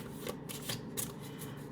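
Tarot cards are shuffled close by in a quiet room, a series of soft riffling and slapping bursts in an uneven rhythm, faint and with no one talking.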